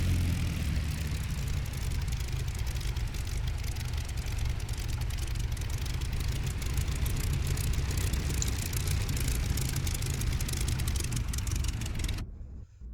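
A Spitfire's engine idles steadily before taxiing in the DCS flight simulator, a constant low rumble with rough texture that holds for about twelve seconds and then cuts off abruptly.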